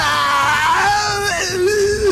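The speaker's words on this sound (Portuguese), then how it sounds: "bota o efeito do grito lá do Orochimaru" Orochimaru's scream sound effect from the Naruto anime, a loud, sustained, wavering wail that bends downward in pitch and continues for about two seconds with no talk over it.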